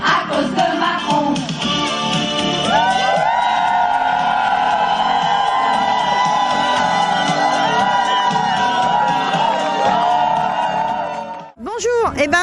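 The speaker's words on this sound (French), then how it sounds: "À cause de Macron, on crie révolution." A loud protest crowd at a strike march in Le Mans chants and shouts in unison against Macron, voices ringing out close and sustained for several seconds before a brief dip and a burst of shouting.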